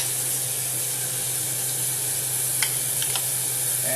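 Chopped carrots added to a hot pan with garlic for chicken cacciatore sizzle in a steady, close hiss, with a few brief clinks of stirring near the end.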